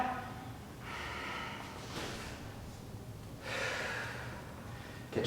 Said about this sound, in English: Get your breath, a little recovery breathing.